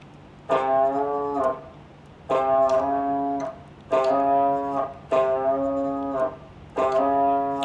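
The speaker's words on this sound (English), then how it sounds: "You can bend the note C on string 5," A single guitar note, C on the fifth string, rings out five times, each held about a second and bent a half step, separated by short pauses.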